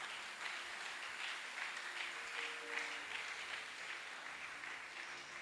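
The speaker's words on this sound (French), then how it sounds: "Est-ce qu'on peut acclamer très fort pour les Seigneurs?" A church congregation applauding loudly during a special blessing service, sustained dense clapping for several seconds with a faint voice underneath.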